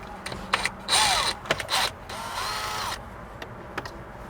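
Screws being driven out of the dash trim of a 2018+ Jeep Wrangler JL with a Phillips screwdriver, heard as scattered clicks and bursts of ratcheting, grinding turns close by with short pauses between them.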